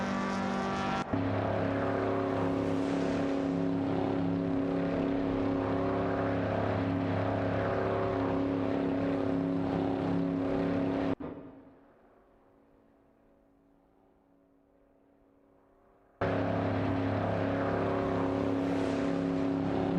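Race cars in an AI racing event drone past with a sustained, loud tonal engine roar that holds steady for about ten seconds, cuts to near silence for around five seconds, then resumes abruptly.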